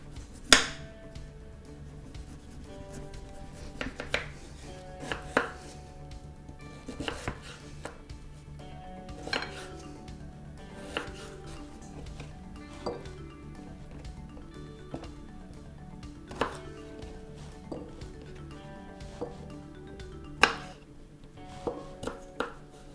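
A knife chops beets on a cutting board for an Ancient Mesopotamian stew, with a steady run of sharp, close board strikes spaced every second or so and a few louder clacks near the start and end.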